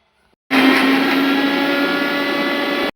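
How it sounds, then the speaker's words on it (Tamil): A mixer grinder grinds coconut, cumin, pepper, chilli powder and salt for a pirandai chutney, running as one loud, steady whirring burst that starts abruptly and stops after about two seconds. "இவ்வளோத்தையும் போட்டு நம்ம வந்து இதை அரைச்சி எடுத்துடணும்"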